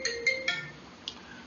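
A phone ringtone plays near and clear, a short bright repeating electronic melody in quick pulses, with no talking over it.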